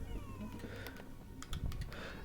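A cat meows in the video game Half-Life: Alyx, a few short mews at mid distance over a steady low game ambience with faint clicking.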